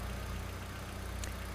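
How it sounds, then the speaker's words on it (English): A car engine idling steadily as it warms up, a low continuous rumble with a faint even pulse, close and unbroken, no talking. "engine's warming up"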